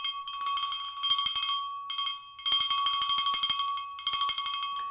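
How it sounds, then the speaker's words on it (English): A PR bell rung in celebration for a runner named Daniel clangs in three rapid, metallic bursts, each a fast run of bright strikes with a steady ringing tone, close and loud with no talking. "We will absolutely ring the bell for Daniel today."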